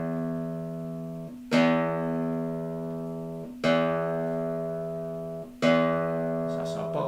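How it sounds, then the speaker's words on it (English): Low E string on a guitar plucked three times for tuning, each pluck a bright attack ringing into a long sustained tone, close and clear, no talking. "This is our bottom E, so just make sure that your strings sound more or less the same as this."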